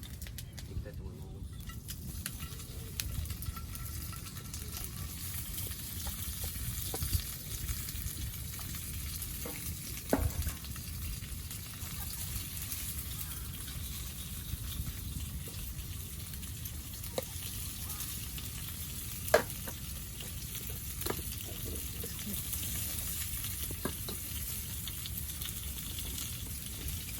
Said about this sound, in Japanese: こんな 感じでベーコンを入れてます。